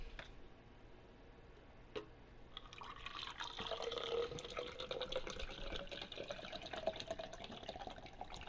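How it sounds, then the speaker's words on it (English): Water being refilled in Minecraft Bedrock on PS4: a trickling, bubbling fill sound that swells and keeps running for several seconds, with light ticking drips over it. "I've got to refill my water"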